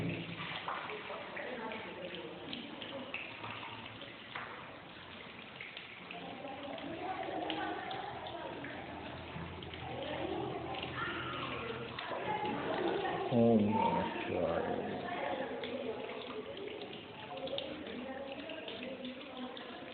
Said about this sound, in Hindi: ये पानी वहाँ निकलता रहेगा